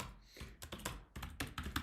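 Rapid, uneven clatter of keys on a computer keyboard, close and fairly quiet, with irregular bursts of keystrokes and no speech.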